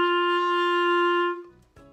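A clarinet plays the open note G on the second line of the treble staff: one steady, clear, sustained tone held for over a second, then cut off, followed by a soft breathy shuffle.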